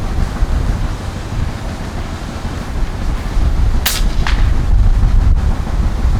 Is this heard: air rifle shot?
yes